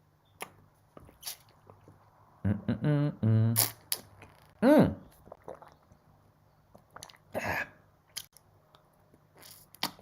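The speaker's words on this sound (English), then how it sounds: "I'll take a sip of water." Close, quiet gulping and swallowing sounds from someone drinking a sip of water, with wet mouth clicks and a short hum in an otherwise still room.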